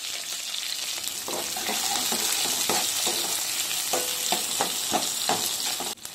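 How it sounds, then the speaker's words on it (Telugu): Onion and green chillies sizzle steadily in hot oil with cumin seeds, a dense close crackling hiss broken by occasional spoon stirs and scrapes for gongura dried prawn curry. "తర్వాత ఆనియన్, పచ్చిమిర్చి వేస్తుంది."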